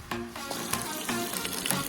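Zucchini and sausage frying in a little oil on a camp burner, a close steady sizzle with brief crackling bursts and stirring scrapes.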